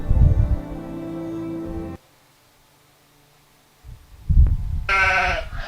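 Sheep bleat loudly from a video played back during a church sermon: a drawn-out bleat, then near silence, then another burst of bleating.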